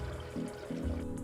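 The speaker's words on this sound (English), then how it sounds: "I'll transfer about half of the water in this bucket to the other bucket" Water poured from one bucket into another while scouring wool, a brief splashing fill that gurgles and shifts in pitch over about a second, close and alone.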